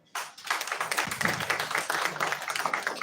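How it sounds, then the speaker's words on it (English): Audience applause after a briefing by the Speaker of the House of Representatives: dense, steady clapping from a crowd indoors, starting abruptly and holding at an even, moderately loud level for a few seconds, with no voices over it. "I think we should give him another round of applause"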